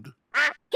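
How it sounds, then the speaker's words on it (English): A cartoon duck sitting on Daddy Pig's head after his fall into the pond quacks in a stop-motion scene: a faint low call, then two loud, nasal quacks close by. "Daddy Pig, did you know you've got a duck on your head?"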